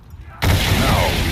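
A loud, sustained burst of gunfire from Call of Duty Origins, aimed at torches, erupts abruptly after near-silence and keeps a dense, roaring noise to the end.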